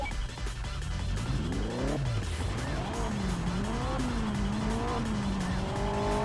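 Car engine revs up and down through gear changes while tires squeal and skid in the racing game Juiced: Eliminator, loud and continuous for the whole stretch with no talking.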